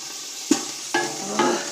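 Bacon fries in a pan under a continuous crackling sizzle, with three sharp utensil knocks or stirs landing at roughly even intervals.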